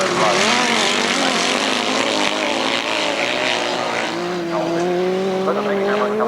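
Sidecar grasstrack racing engines roar loud and constant at a 1991 meeting, several machines revving hard with pitch rising and falling as they pass, and a commentator talking over them.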